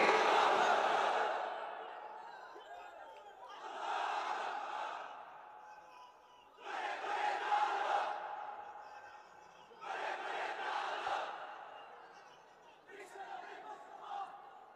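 Large crowd at a religious gathering chanting the takbir, loud massed voices in five rhythmic call-and-response swells separated by short pauses.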